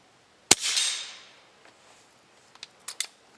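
A .357 rifle fitted with a 6-power scope fires one sharp, loud shot that rings out and decays over about half a second, followed by several fainter clicks and taps.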